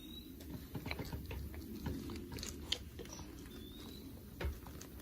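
A deer eats food quickly from a person's hand, giving faint, irregular wet crunching and biting sounds close by over a low background rumble, with no talking.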